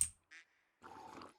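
Ducks quacking in the video game Medieval Dynasty, a few short, faint quacks separated by brief pauses, ending in a slightly longer raspy quack.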